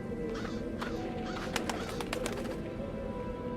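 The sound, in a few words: crow cawing, from the video game Dreamfall: The Longest Journey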